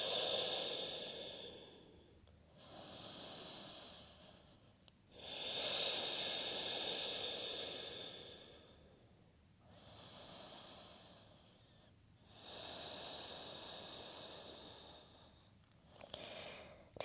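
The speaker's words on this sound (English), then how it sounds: "Breathe deeply and fully here" Slow, deep breaths taken while holding yoga pyramid pose: about six long, airy inhales and exhales, each lasting a couple of seconds with pauses between, close and fairly soft, with no talking.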